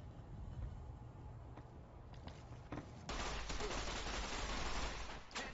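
Weapon fire in the video game Fallout New Vegas, a few scattered shots early, then a dense, sustained rattle of rapid automatic gunfire through the second half, fairly muffled and low in level.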